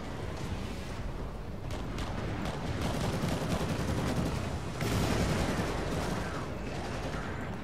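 Dense, continuous gunfire in the Warhammer 40k: Eternal Crusade video game, rapid shots and booms overlapping steadily at high loudness for several seconds with no talk.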